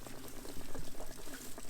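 Water glugging and draining out of an RV hot water heater on the outside of the vehicle, with air let in so it flows faster. Quick bubbling, burbling gulps run steadily throughout, moderately close.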